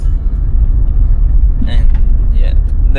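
A car engine runs rough on a cold morning, a loud, steady low rumble up close that stays even throughout, with brief higher squeaks on top.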